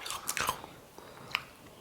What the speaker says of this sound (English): I love her chewing noises.